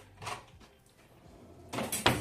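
A kitchen shelf drawer holding spoons, ladles and knives is pulled open in a holiday guest house, with a brief metallic rattle of cutlery near the start and a louder clatter and scrape near the end, close up, with no talking.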